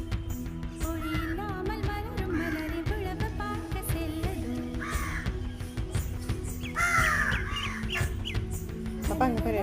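Myna birds call outdoors in a busy flock, with harsh, chattering and whistling notes repeating densely throughout, fairly near and steady against a constant background hum.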